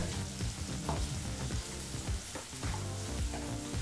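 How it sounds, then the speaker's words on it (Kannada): Chopped onion fries in oil and butter over a medium flame, giving a steady, dense sizzle that stays loud and close throughout, with faint scraping and stirring bumps scattered through it and no voices. "ಈ ಈರುಳ್ಳಿನ ಮೂರರಿಂದ ನಾಲ್ಕು ನಿಮಿಷ ಮೀಡಿಯಂ ಫ್ಲೇಮಲ್ಲೇ ಚೆನ್ನಾಗಿ ಎಣ್ಣೆ ಮತ್ತು ಬೆಣ್ಣೆನಲ್ಲಿ ಫ್ರೈ ಮಾಡ್ಕೋಬೇಕಾಗತ್ತೆ"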